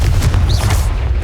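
A loud booming fire-blast explosion from the Confringo spell in Hogwarts Legacy, a dense, heavy low rumble filling the whole short moment.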